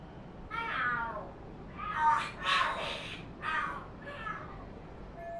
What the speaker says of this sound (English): Oh, are there cats fighting?